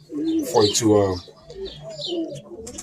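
A pigeon coos a few times, close and clear, its soft throaty calls mingling with a person talking nearby.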